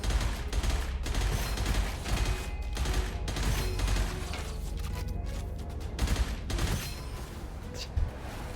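An automatic weapon in Gunfire Reborn fires short, rapid bursts, with dense, repeated volleys of shots at close range running continuously under light talk.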